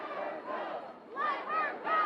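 A protest crowd outside a governor's mansion chants a short phrase over and over in rising, rhythmic group shouts, moderately distant and echoing.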